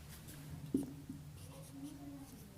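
Chalk or marker writing on a board in a maths lesson, faint scratchy strokes with a brief louder tap, close by in a quiet room.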